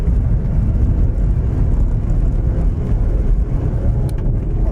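A WAW velomobile fitted with a Tongsheng TSDZ2B electric motor rolls along at cruising speed of about 30 km/h, giving a steady, loud low rumble of road and wind noise with no breaks.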